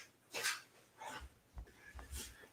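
A dog, faint and close, gives a few soft huffing yips and whimpers separated by short pauses, with low bumps of movement between them.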